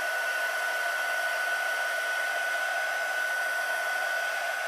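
A hair dryer-style drying tool blows steadily on saturated gel-printed paper, a constant loud whooshing roar with a thin whine, unbroken and alone with no voices.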